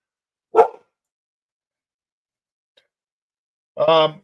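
Dogs barking outside an office window in a residential neighborhood: one short, sharp bark early, then a longer, louder bark or yelp a few seconds later after silence, fairly close and with no talk over it.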